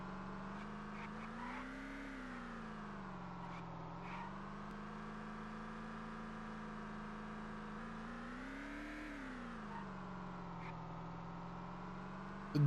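A game car engine droning steadily while driving in the survival game Vein, its pitch swelling and sagging in slow waves as the throttle changes, moderately quiet with no talk.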